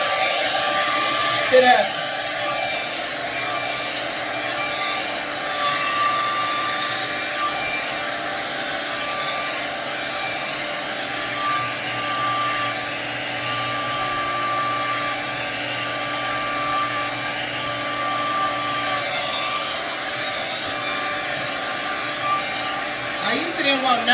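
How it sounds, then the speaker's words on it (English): A hair dryer blows steadily and loudly while drying a child's natural hair after wash day, a continuous close whirring roar throughout, with brief spoken words over it. "we're about to get ready to blow dry this hair real quick"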